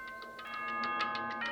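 A doorbell chime in the video game Danganronpa rings as a short run of bright, tuned ding-dong tones, clear and fairly loud with nothing else over it.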